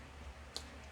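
Small jar holding French polishing pads, opened beside shellac and mineral oil, gives a single faint, quick click of the lid in an otherwise quiet room.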